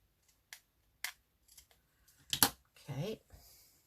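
Scissors trim paper for a handmade tag in a few sharp close snips and clicks, spaced apart and fairly quiet, followed by a short burst of speech.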